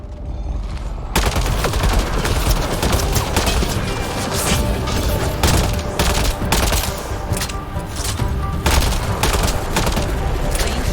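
Shotgun fire and a chaotic firefight ring out in the video game Mass Effect Andromeda. Dense, loud blasts and impacts overlap continuously after a brief quieter start, and a voice is faintly mixed in.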